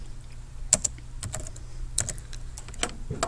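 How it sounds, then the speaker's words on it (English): Keys clatter on a computer keyboard in quick irregular bursts, a close, fairly quiet run of taps with short pauses, no voices. "you just type it in"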